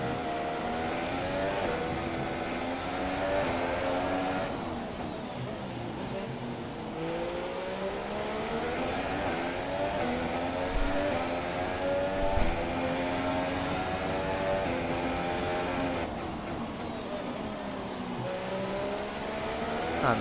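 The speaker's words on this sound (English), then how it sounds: "that's a McLaren Honda we're catching" A McLaren Honda Formula 1 car engine in the F1 2017 racing game at Singapore, a steady high-pitched whine rising and falling through gear changes, loud and continuous with no talk.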